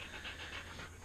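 A dog pants in quick rhythmic breaths, several short airy huffs within a second, close but faint with no voices.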